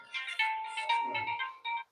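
A phone ringtone plays during a live Hindi class, a bright melodic tone in several short bursts, fairly close and alone without talk.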